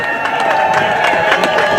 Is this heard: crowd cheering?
yes